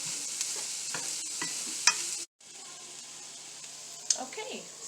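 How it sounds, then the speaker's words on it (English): Onions, garlic and celery cooking down in a pan for baked spaghetti, a steady soft sizzle with occasional stirring clinks, briefly cut out midway, with faint talk at times. "I am cooking down the onions and celery"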